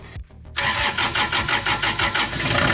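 A generator engine cranks with a few quick starter turns, then catches and settles into a loud, pulsing mid-pitched running chug close by.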